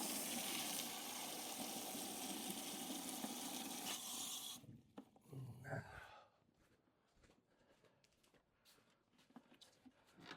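Water poured onto a cactus named Henry, a steady splashing pour for several seconds that stops abruptly, followed by quieter trickles and drips as it soaks in, close up.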